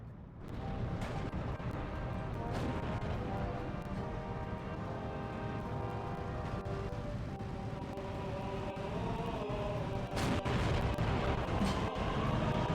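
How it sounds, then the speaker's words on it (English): Bombing runs in the World War II strategy game Steel Division II bring a dense, continuous barrage of explosions and crashes, loud throughout, with sharp bursts standing out near the end and no talk. "Bombing these to suppress them a little bit before my tanks arrive"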